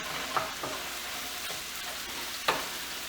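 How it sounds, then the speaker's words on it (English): Melted butter sautéing in a pan for mac and cheese gives a steady, even sizzle, with a couple of faint stirring clicks and no voices. "The butter is melted. This is sauteing."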